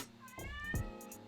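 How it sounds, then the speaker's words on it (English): A house cat gives a single short, fairly close meow with a rising and falling pitch, heard alone. "Subscribe if you can hear my cat."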